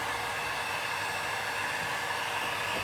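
Hair dryer blowing across melted metallic encaustic wax, a constant close whooshing rush of air at even loudness from start to finish.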